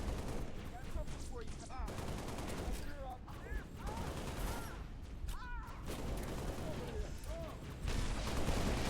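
Halo Reach battle gunfire crackles in dense, continuous bursts with scattered explosions, layered under bits of in-game radio chatter throughout.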